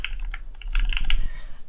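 Quick keystrokes clack close up on a Keychron Q1 custom mechanical keyboard, a short burst of about a dozen crisp taps at an uneven pace, with no voices.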